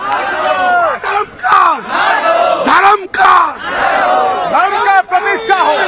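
A large rally crowd chants a Hindu religious slogan in unison, loud massed voices rising and falling in rhythmic shouted phrases with brief pauses between calls.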